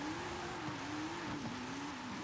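Cars launching in a Forza Horizon 5 drag race, engines holding a steady loud droning roar with slight pitch wobble as they accelerate, close and continuous, no talking.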